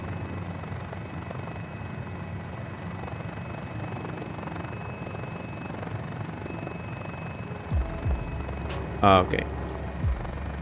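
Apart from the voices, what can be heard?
GotFriends Mini-500 helicopter landing in a flight simulator game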